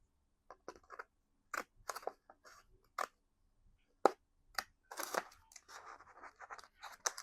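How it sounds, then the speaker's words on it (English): Scissors snip around a paper calendar page from an advent calendar in a string of close, crisp, irregular cuts separated by short pauses, with no talking. "Cut out the best I could."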